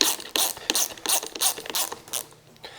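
A plastic water softener filter housing is screwed back into place, giving a series of rapid ratcheting clicks and rough grinding bursts in quick succession, close and fairly loud.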